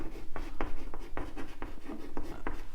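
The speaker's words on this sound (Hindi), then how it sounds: "तो मैं यहां लिख रहा हूं" Chalk or marker taps and strokes across a classroom board in a steady run of short, distinct scratches, close and fairly loud, with no speech.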